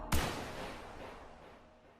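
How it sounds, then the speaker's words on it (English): A single sharp gunshot rings out in an Obey Me! game trailer, loud and sudden, then fades through a long reverberant tail over about two seconds. "Always a gunshot."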